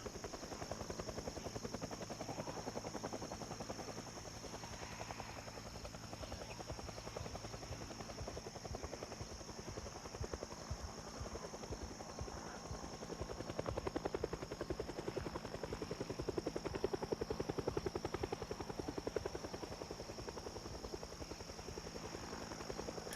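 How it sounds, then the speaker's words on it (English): A helicopter in a zombie survival video game drones steadily overhead for the whole stretch, a constant rotor hum and buzz that swells slightly partway through, heard alone at low level without talk. "I do hope this helicopter does 2 or 3 passes"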